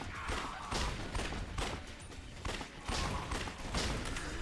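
Rapid gunfire from the video game Yakuza: Dead Souls, a dense, loud volley of repeated shots crackling steadily for several seconds with no pause.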